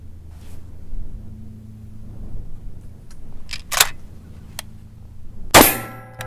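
A shotgun fired at a patterning target: one loud, sharp blast with a brief ringing tail near the end, preceded by a few faint mechanical clicks over quiet outdoor background.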